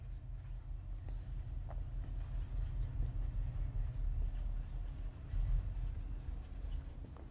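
Pen scratching on paper as lecture notes are written, faint and continuous with short strokes over low background hum.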